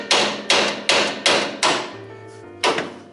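Hammer blows knock a tie rod end loose from the spindle of a 1965 Ford Mustang: five sharp, evenly spaced metallic strikes, then a brief ringing pause and one final hit, close and loud with no talking.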